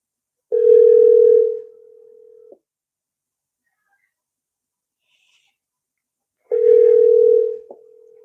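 A telephone ringback tone sounds during an outgoing call, with two loud, steady tonal bursts a few seconds apart and silence between them.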